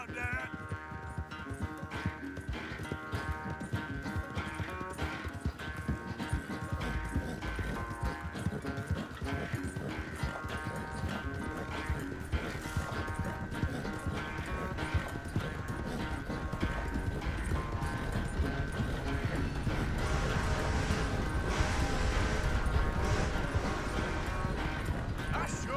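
Horse hooves clip-clop steadily in Red Dead Redemption 2 during a ride near Clemens Point, a continuous rhythmic trot under a full music score with occasional whinnies.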